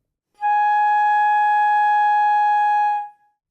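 A flute sounds G sharp in the second octave as one steady, pure note held for nearly three seconds, close, clean and alone before it fades.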